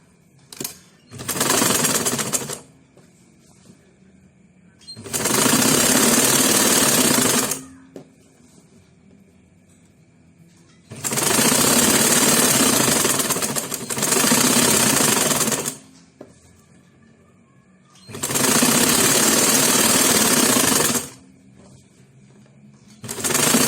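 A sewing machine stitching the slit of a pencil skirt runs in four loud, rapid bursts of a few seconds each, separated by quiet pauses.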